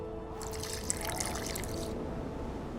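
In The Witcher 2, water is poured into a mixture of burnt lime: a brief, close splashing trickle lasting about a second and a half over a low steady background hum.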